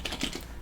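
Close, clear computer keyboard taps as a command is entered on a Linux machine, several quick keystrokes in a short burst, with no talking.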